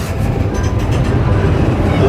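Argo Merbabu passenger train pulling into Pemalang station, a steady loud low rumble of rolling wheels and carriage noise heard from on board.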